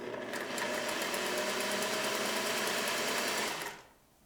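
A 1950s Singer 401a sewing machine, last serviced in 1994, stitches in a fast steady whirring run for several seconds, then stops abruptly, close and loud.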